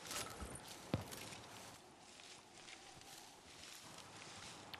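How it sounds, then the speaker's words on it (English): Footsteps in a Fortnite ranked solo match, faint, scattered steps with a rustling texture over quiet game ambience, one sharper thud near the start. "I hear footsteps"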